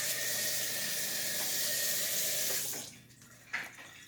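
Tap water runs steadily into a sink, then cuts off, leaving a few quiet clinks and a short splashy sound near the end.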